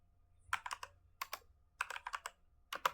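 Python code being typed on a computer keyboard: quick bursts of crisp close keystrokes in short clusters separated by brief pauses, no voices.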